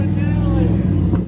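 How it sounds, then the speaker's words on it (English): A Coyote Mustang engine with a fault that makes it huff out the breather runs on a lift, a loud, steady low rumble lasting just over a second and cutting off abruptly. "we have the Coyote Mustang on the lift too because it was absolutely huffing out the breather"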